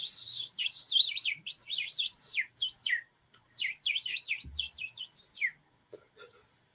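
A person imitating a bird call, whistling a run of high, quick warbling chirps in several bursts with short pauses, close and clear over near silence.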